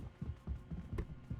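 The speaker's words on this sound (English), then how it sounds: "I heard his footsteps, so I got scared." Footsteps from the video game Burglin' Gnomes: a quick run of soft, evenly spaced thumps, faint and low, lasting only a moment.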